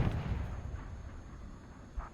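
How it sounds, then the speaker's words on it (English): Explosions from tank HEAT rounds in Squad, a T-72 firing at an M1 Abrams in a recreated Battle of 73 Easting, heard as a low rumbling blast that fades, with a smaller distant boom near the end. "You can see the explosions, a much different type of explosion than the AP."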